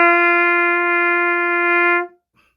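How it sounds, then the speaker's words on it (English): A single sustained trumpet note G held steadily for about two seconds, bright and close with rich harmonics, then cut off cleanly into silence. "Let's play it on the trumpet."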